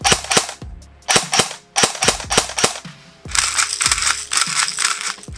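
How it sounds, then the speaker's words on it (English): Blaster sound effects from an S&T full-metal airsoft E11 Star Wars movie prop: a rapid series of sharp, loud, close electronic zaps and shots in quick bursts, ending in a denser stretch of repeated fire. "the blaster sound effects and all of that stuff, I did that"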